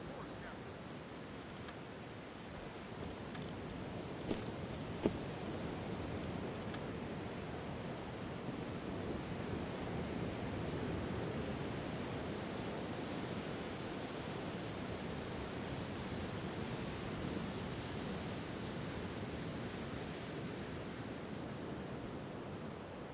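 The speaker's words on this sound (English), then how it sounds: "Just enjoying a nice ocean breeze" Steady broadband wash of ocean waves and wind in the submarine game UBoat, a continuous roar that stays even throughout, with a couple of faint brief clicks near the start.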